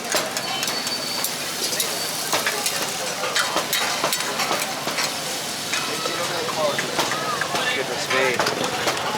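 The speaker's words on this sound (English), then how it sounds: "Look at a man cooking the karahis." A man cooks karahi in a pan at a busy street stall in Karachi, a steady dense sizzle with scraping stirs and clinks, close and loud under ongoing street noise and people talking.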